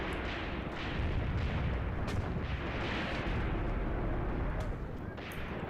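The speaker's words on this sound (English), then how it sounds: "If this artillery's just going to continue to fall over there" Continuous heavy barrage of artillery shells falling in the Graviteam Tactics war game, with dense rumbling blasts and scattered sharp cracks forming a steady, loud wall of distant bombardment.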